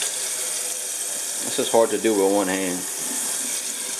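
Tap water running steadily to fill a cup, a constant close rushing stream, with a voice speaking briefly over it.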